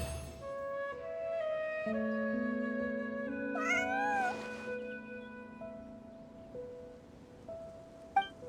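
A cat meows in Genshin Impact, a few drawn-out tonal mews with a rising-falling cry near the middle, close and clear over quiet background and a soft rain-like hiss, ending with a brief click.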